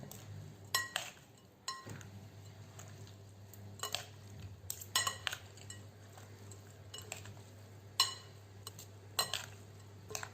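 Beetroot salad is stirred in a bowl with a utensil, giving scattered light clinks and scrapes against the dish over a low steady hum, close by and with no talking.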